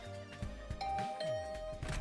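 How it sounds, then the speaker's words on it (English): A doorbell chimes beside a room door in a video game, a brief tonal ding over a busy background of low thuds and music. "I rang the bell by the side of the door."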